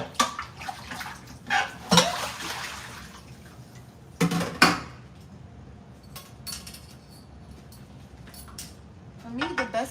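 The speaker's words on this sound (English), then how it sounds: "let's get this pot washed up." A pot being washed in a kitchen sink, with splashing water and clanks of metal against the basin in irregular bursts, and a voice talking quietly throughout.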